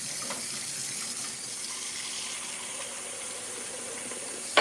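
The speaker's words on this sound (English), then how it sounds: "that water is too loud" Steady rush of tap water pouring into a sink, continuous and fairly loud throughout, with a faint knock near the end.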